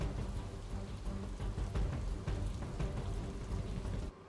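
Steady, dense monsoon downpour drumming on surfaces in rural Surat, Gujarat, flooding low-lying areas, continuous and loud, with a low rumble underneath, cutting off abruptly near the end.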